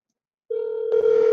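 A telephone calling tone, a steady electronic buzz that starts abruptly after a short silence and holds, shifting slightly midway, clear and alone with no voices.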